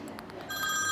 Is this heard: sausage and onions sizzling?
no